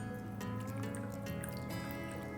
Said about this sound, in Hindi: अब लेंगे हम फुल फैट मिल्क और एक धार की फॉर्म में मैं डालूंगा एंड कंटिन्यूसली विस्क करूँगा।